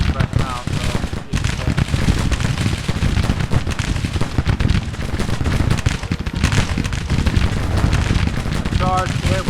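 Musket volleys in the Civil War strategy game Grand Tactician crackle densely and continuously, loud and layered with distant rumbling battle noise, with speech running under the firing.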